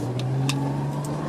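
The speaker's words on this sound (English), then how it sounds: "I'm actually going to make a very illegal U-turn" Car engine in Rhode Island traffic during an illegal U-turn, a steady mid-pitched hum with a low drone held at an even level, plus a few brief higher swishes.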